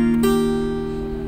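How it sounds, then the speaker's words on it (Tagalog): A single note on an acoustic guitar's first string, plucked at the second fret, starts sharply and sustains steadily, close and moderately loud, fading slowly with no talking. "Tapos balik natin sa 2nd fret ng 1st string. Yun ang kakalabitin natin."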